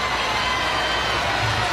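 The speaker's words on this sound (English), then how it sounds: "Crowd roars." A stadium crowd at a college softball game in the Women's College World Series finals roars in a dense, loud, unbroken wall of cheering that fills the whole moment without letup.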